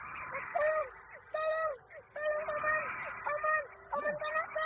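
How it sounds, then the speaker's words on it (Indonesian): A crow diving at a boy's head in a radio drama, rendered as a series of harsh, repeated bird calls in short bursts at a moderate distance, fairly faint against a quiet background. "Burung gagak itu menyambar kepala Barda."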